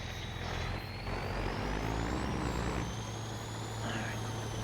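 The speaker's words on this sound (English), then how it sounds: "I'll just go in there with the plow and round it off" A tractor pulling a plow around a field corner in Farming Simulator 25, a loud continuous engine drone with rising whine and low rumble throughout.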